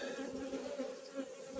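Honeybees buzz at an outdoor hive during a spring brood check, a steady, dense drone with a faint, continuous hum throughout.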